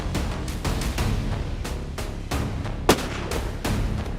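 A single sharp bolt-action rifle shot cracks out midway through a steady rumbling, wind-like background during a leopard hunt in rugged central Indian terrain.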